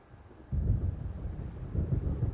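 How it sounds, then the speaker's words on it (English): Low, rumbling thunder from an approaching storm rolls in suddenly in the video game Alan Wake, a sustained deep grumble with wind-like roar near an island shore. "It seems there's a storm coming."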